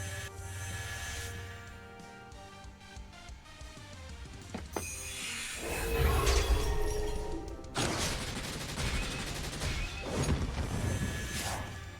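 Skill attack effect from the mobile strategy game Langrisser M: a loud crashing, whooshing burst with layered impacts and a sustained roaring swell, dense and busy throughout, no talk.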